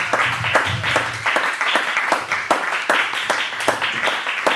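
A church congregation at a Friday worship service claps and cheers in praise of God, dense rhythmic applause that keeps a steady beat throughout, loud and close, with no talking over it.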